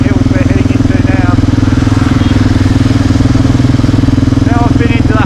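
A Kawasaki KLR 650 single-cylinder motorcycle drones loud and close with a steady, throbbing engine note while riding mountain roads into Nepal's Himalayan foothills, and a voice talks intermittently over it.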